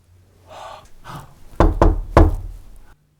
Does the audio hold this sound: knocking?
yes